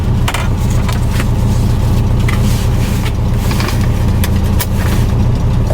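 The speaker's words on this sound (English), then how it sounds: "It does not like the cold weather at all. Because it's carbureted, it's not fuel injected." A classic carbureted VW Super Beetle engine runs steadily in cold weather, a loud, continuous low rumble heard from close by with a few faint clicks on top and no talking.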